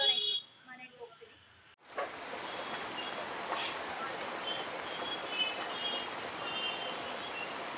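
Heavy rain pours down during a traffic jam, a dense, even hiss of drops that starts abruptly after a moment of muffled street sound and then holds steady at moderate loudness.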